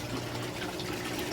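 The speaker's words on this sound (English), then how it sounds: "There's our drain into our sump." Water draining from an aquaponics system into the sump, a steady close rushing splash.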